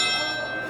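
A backyard railroad bell rung by pulling its rope gives a bright, sustained metallic ring with long overtones, close and steady through the brief moment.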